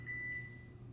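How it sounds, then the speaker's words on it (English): A kitchen microwave oven hums steadily with a low drone while a single sharp electronic beep rings out near the start and fades over about a third of a second. "I'm gonna microwave this real quick"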